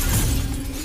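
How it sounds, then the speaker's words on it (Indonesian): A glass cabinet in a film shatters with a broad, loud crash and a brief spray of breaking glass, dense and close, fading slightly over less than a second. "Yak Kun lekas membalut tangannya menggunakan kain untuk menghancurkan kaca tersebut"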